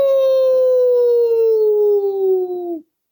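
A person imitates an old hound dog howl with one long, loud, sustained tone that slides slowly downward for nearly three seconds, then cuts off.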